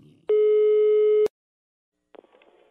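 Telephone call tone on a line: one steady electronic beep lasting about a second, loud and clear, followed by a brief silence and faint clicks of the connection.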